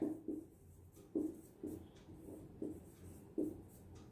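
Chalk or marker strokes on a classroom board come as short scratchy taps in an uneven rhythm, close and fairly soft, with no talking over them.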